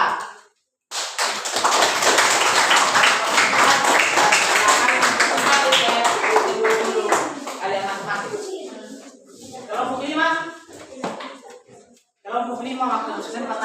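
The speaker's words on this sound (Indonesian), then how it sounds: "Mari kita berikan aplaus yang meriah kepada kelompok 4" Lively classroom applause for a student group, loud and sustained clapping with chatter and laughter mixed in before it tapers off and resumes briefly.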